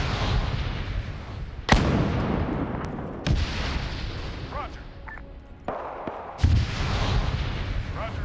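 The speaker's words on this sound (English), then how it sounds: "They're firing the arty piece into that group." An artillery piece booms in a World War II combat game, with several heavy blasts standing out from a dense, continuous rumble of battle noise and scattered gunfire.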